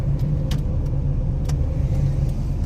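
A car slowing down with pulsing brakes, a steady loud road and engine rumble carrying faint rhythmic thumps and small rattles, heard from inside with no talking.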